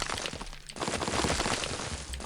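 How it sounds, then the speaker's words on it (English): Rocks and skulls smash in The Binding of Isaac video game, a loud, dense crunch of breaking that is briefly interrupted and then continues. "Any rocks that are available, as well as skulls, we will be smashing."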